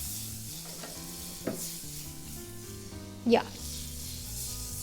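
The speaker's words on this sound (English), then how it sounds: "Gonna add a little butter to our pan first to cook that steak" Butter sizzling in a hot pan ahead of cooking steak, a steady soft fry with a couple of brief clanks and stirs, and a short spoken word.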